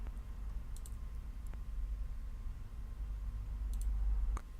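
Faint, sparse clicks of a computer mouse stepping through a software installer on a Windows 10 machine, a few isolated taps over a quiet low hum.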